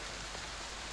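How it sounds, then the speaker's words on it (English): Heavy rain pours steadily outside, a dense, unbroken hiss of drops striking surfaces close by, holding at the same level throughout with no voices. "The rain starts drizzling heavier and heavier, obscuring the vision outside"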